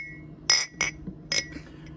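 Vintage Schlitz and Budweiser beer glasses clink together at a Florida garage sale, three bright, ringing taps in quick succession, close and fairly loud with no talk.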